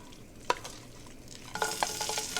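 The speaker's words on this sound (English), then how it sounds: "You're going to spoon the mixture into the pan here" Roast beef hash mixture being spooned into a buttered pan, with soft scraping clicks of the spoon and a sizzle that rises and stays steady once the mixture hits the hot butter.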